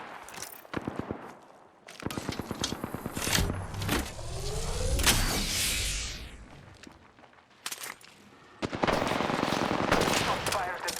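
Enemy gunfire in a shooter video game, with repeated bursts of loud rapid shots broken by short pauses, mixed with other game effects such as a rising whoosh and mechanical noises.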